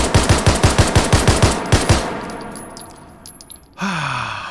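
The H9 pistol in the VR shooter H3VR fires a rapid, evenly spaced string of about ten loud, close shots, followed by a few softer mechanical clicks and a brief sliding, whooshing tone.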